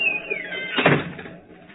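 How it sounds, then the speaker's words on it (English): A wooden door swings shut with a creaking hinge and a solid thud, close and clear, followed by a brief room echo. "Shut the door behind you."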